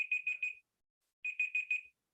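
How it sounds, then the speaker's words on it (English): Electronic timer alarm beeping in two bursts of four rapid high-pitched pulses separated by a short pause, clear and close with no talking. "that's my timer"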